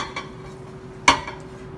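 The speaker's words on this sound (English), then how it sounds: "So just using my spoon, I'm going to spread this out on the bottom" A metal spoon scrapes and spreads a saltfish and tomato mixture across the bottom of a baking dish, with one sharp clink near the middle and a soft steady scraping around it.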